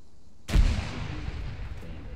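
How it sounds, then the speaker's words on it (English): A single sudden explosion in Arma 3, a sharp deep boom followed by a rumbling, fading tail. "I just heard an explosion"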